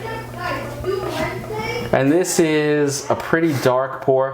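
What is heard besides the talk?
children talking in the background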